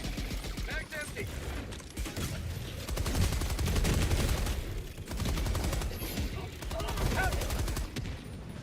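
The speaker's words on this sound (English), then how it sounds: "I'm just gonna put out 2 gas grenades and just start pumping crossbow shots in" Crossbow shots fire in rapid succession during a Helldivers 2 battle against a swarm of enemies, with heavy, continuous combat noise from gas grenades and gunfire, and voices in the mix.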